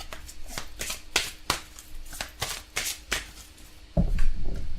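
Tarot cards are shuffled by hand for a reading, a series of crisp riffling and flicking bursts at a loose rhythm, close up, ending in a denser rustle.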